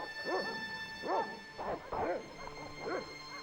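Dogs in the video game Broken Sword Reforged let out a series of about six sharp yipping barks at a quick, uneven pace, each one clear and fairly close over a faint hum.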